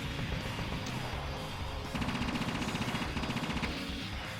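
A standard machine gun in the video game Assault Suit Leynos rattles off rapid bursts of shots over a loud game soundscape, with a longer burst of steady repeated fire in the middle.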